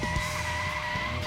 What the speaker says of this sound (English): even when he stops, he makes that fucking car brake sound